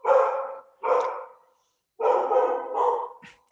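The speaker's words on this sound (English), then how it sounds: "Hear my dog?" A dog barks four times, loud and close: two separate woofs, a pause, then two more in quick succession, with no talking over them.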